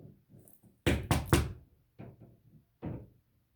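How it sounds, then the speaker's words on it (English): Sharp knocks on a wall as a picture is hung back up: one soft tap, a quick loud cluster of three hard thuds, then a couple of fainter knocks and a final solid one, close by in a quiet room. "I think he's trying to hang up a picture that he knocked over"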